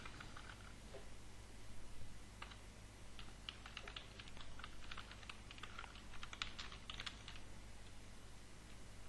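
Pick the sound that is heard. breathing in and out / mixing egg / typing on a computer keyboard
typing on a computer keyboard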